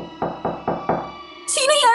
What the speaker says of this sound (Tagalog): May kumakatok.